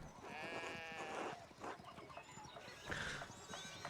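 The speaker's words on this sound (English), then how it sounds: "we need to get these sheep under control" Sheep bleat in the medieval adventure game Pentiment, several close, wavering cries in quick succession with a farmyard bustle underneath.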